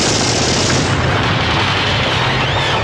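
Loud, dense wartime battle din from a World War II film scene: continuous machine-gun bursts and heavy explosions merge into a roaring, unbroken barrage with no pauses.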